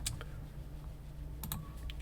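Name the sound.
pressing the T key on a computer keyboard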